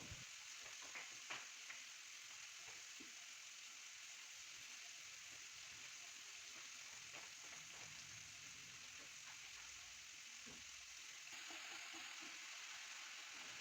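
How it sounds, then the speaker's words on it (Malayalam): Sliced okra fries in a pan over a low flame, making a faint, steady sizzle with occasional soft ticks and stirring sounds, heard alone. "ഇനി ഒരു 5 മിനിറ്റ്സ് ഇത് ഫ്രൈ ചെയ്തെടുക്കാം."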